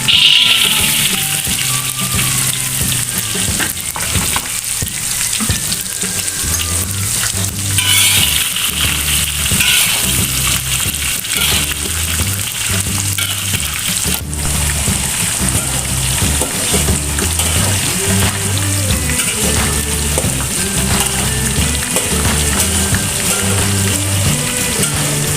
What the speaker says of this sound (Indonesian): Sambil menggoreng tahu, lanjut kita goreng kacangnya Bunda.